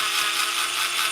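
A power drill bores through a car exhaust, giving a steady, close, high-pitched whine with grinding texture that holds evenly throughout.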